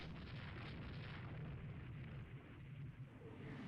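Torpedo hits exploding on warships in the naval strategy game Rule the Waves 2, a sustained low rumbling boom with steady roar and faint crackle, loud and continuous without speech.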